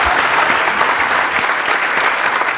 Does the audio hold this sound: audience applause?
yes